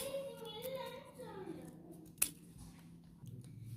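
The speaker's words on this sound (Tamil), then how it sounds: "அதுக்கப்புறமா நம்ம குட்டி குட்டியாக வெட்டி போட்டுக்கலாம்" Scissors cut paper into small pieces for a craft project, with a few soft snips and one sharp close cut in a quiet room, and a voice speaking faintly at the start.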